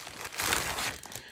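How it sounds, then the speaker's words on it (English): A plastic bag holding a tablecloth crinkles and rustles as it is handled up close, a steady crackly texture with a few louder crunches, no talking. "Here's something else in a plastic bag."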